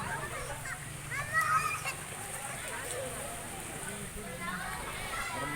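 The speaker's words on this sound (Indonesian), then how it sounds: "Anak-anak pada berenang." Children swim and splash in Sodong's natural spring-fed pool, with a steady wash of water and scattered splashes under nearby chatter and kids' voices.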